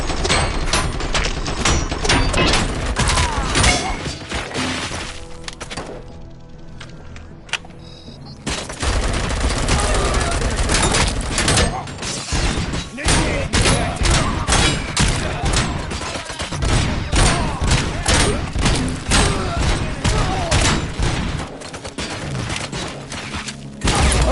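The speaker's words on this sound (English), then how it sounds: "Shoot him in the head, I don't care." Dense, continuous gunfire in the RoboCop: Rogue City video game, loud rapid shots and bursts hammering almost without pause, with a brief quieter lull partway through before the barrage resumes.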